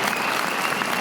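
A studio audience cheers and applauds for a game show host's intro, a dense, steady wall of clapping and crowd noise throughout with no break.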